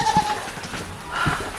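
A goat on a homestead lets out two close, wavering bleats, one at the start and another near the end, with soft outdoor background between them.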